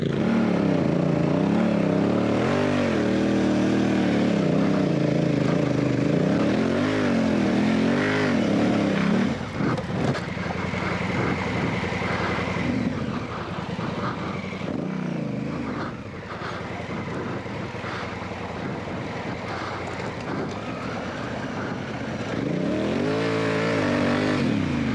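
Motorcycles on Kenda Big Block DS adventure tires ride side by side at equal pressure, engines droning and revving steadily with loud, continuous wavering pitch throughout.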